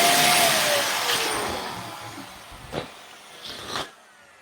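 Air being sucked out of a clear balloon, a fading airy hiss with a squeaky whistle early on, followed by two short rubbery squeaks and sucking bursts, close and fairly quiet.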